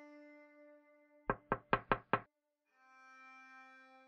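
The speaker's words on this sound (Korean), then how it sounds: "누군가 제 방 창문을 두드리는 소리에 소름이 쫙 끼쳤습니다." Five quick, sharp knocks on a bedroom window come in a tight rhythm, set between stretches of a soft, sustained tonal drone.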